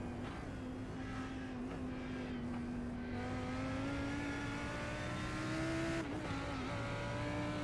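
Lamborghini race cars battle around Mount Panorama in a racing game. One engine note climbs steadily with a sharp gear-change dip near the end, while other cars roar close by in a constant dense mix.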